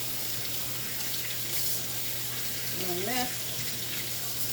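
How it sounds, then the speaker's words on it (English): Tap water runs steadily into a kitchen sink for handwashing during cleanup after cooking curry chicken gizzards, a constant hiss with a low hum beneath, and a person speaks briefly over it. "I'm going to wash my hands"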